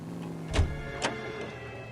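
Car in the video game L.A. Noire pulling away, a steady mid engine hum with two sharp clunks like door or gear sounds, no talking.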